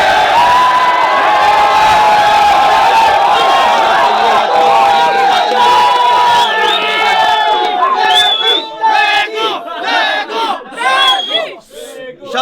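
A crowd at a Filipino battle rap finals cheers, whoops and shouts loudly in a sustained roar, with a voice over it, then breaks into choppier bursts of yelling toward the end.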